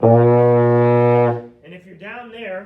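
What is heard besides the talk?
baritone euphonium playing low B flat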